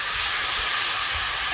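Mushrooms hit hot oil and masala spice paste in a pan, giving a loud, steady, even sizzle with no talking.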